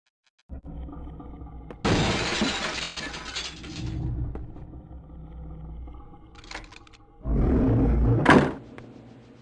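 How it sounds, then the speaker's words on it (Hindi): Glass shattering inside a PSP horror video game: a crashing burst of breaking glass, then lighter clattering debris and a second loud smashing crash near the end, with no talking. "ओके, तो मैं कांच तोड़कर अंदर आ गया हूँ"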